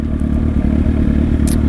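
A motorcycle engine drones loud and close during a wheelie session, holding a steady, rumbling note throughout the short stretch.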